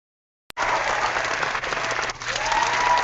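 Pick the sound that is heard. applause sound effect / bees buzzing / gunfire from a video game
applause sound effect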